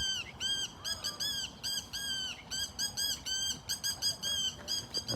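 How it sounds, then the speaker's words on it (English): A bird squawks nearby in a rapid, repeated series of harsh calls, loud and close, filling the whole stretch with steady agitated cries. "This bird isn't happy that I'm stopping here."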